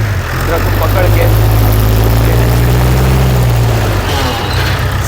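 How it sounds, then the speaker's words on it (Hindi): A tree-shaker vibrator machine harvesting prunes in a large orchard, its rear-mounted engine droning loudly and steadily up close with a deep, constant low hum and a heavy mechanical roar. "ये है वाइब्रेटर मशीन, पीछे इसका इंजन है"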